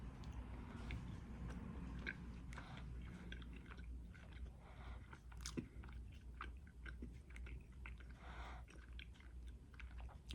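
A raspberry dragon fruit Lifesaver gummy candy is chewed close to the mic, giving steady soft, squishy mouth sounds with faint clicks and smacks that run continuously at a quiet level.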